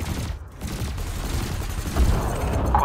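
A burst laser fires at cargo containers on a megaship in Elite Dangerous as a dense, continuous rattle of rapid shots over a droning engine hum, swelling louder toward the end.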